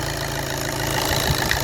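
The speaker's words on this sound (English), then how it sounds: "Can you hear that chugging now?" A VW/Audi-group TDI diesel engine (1.6, 2.0 or 3.0) warming up at idle with a faulty glow plug. It chugs unevenly and steadily up close, with a broad rumble throughout and no talk.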